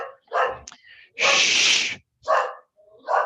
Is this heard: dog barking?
yes